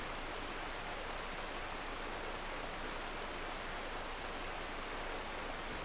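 A waterfall in Final Fantasy XIV rushes as a steady, even wash of broadband noise, with no break or other sound over its length.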